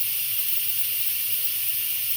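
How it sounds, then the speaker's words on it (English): A pressure cooker forces out steam in a loud, continuous, close hiss that holds steady with no break for about two seconds. "I'm forcing the steam out of my pressure cooker"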